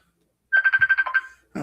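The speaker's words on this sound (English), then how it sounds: "I forgot that phone was even on." A phone ringtone plays close and loud, a quick electronic warble of about eight rapid pulses that fades, followed by a brief clunk.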